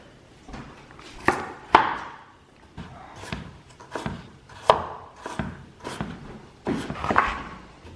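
Carrots are being chopped with a knife on a cutting board, giving about eight to ten sharp, close knocks at an uneven, unhurried pace, with no talking.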